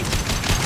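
Rapid gunfire in Mass Effect 2 fills a short, dense, loud burst of overlapping shots and combat noise.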